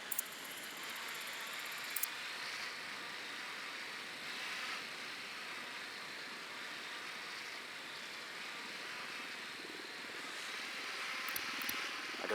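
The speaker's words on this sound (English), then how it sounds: "Deploying drone." A drone in the video game Ghost Recon Wildlands flies with a steady, faint airy whine and engine drone that holds evenly the whole time, with a few small clicks at the edges.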